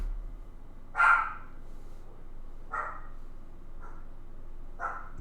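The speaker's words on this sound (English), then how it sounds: "my dog." A dog barks four times from somewhere nearby but not close, each bark short and separated by gaps of about a second or more, over a quiet indoor background.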